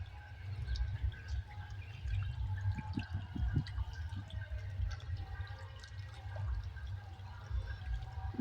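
Water circulates through a tray in a cement biofloc fish tank, trickling and dripping steadily with a continuous low bubbling rush, close and unbroken.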